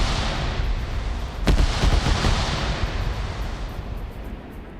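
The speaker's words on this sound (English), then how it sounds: "But now you got the GMGs landing here." Grenade machine gun rounds land in a multiplayer military shooter match, a dense rolling rumble of distant blasts with a sharper crack near the middle. The bursts fade into steady battlefield noise, and no one talks.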